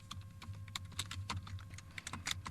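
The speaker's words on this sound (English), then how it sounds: "Here in the center of my document, I'm going to type the name of this particular list." Keys clatter on a computer keyboard in a rapid, uneven run of crisp taps, close and moderately quiet, with no one speaking.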